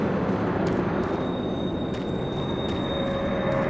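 Onboard a train in the game DOOM 3 VR Edition, a continuous loud rumbling roar of rolling carriages with faint high wheel whines, no voices.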